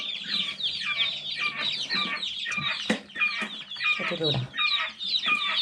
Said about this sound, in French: les poussins, ils sont trop mignons